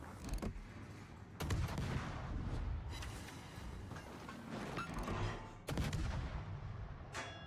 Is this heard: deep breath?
no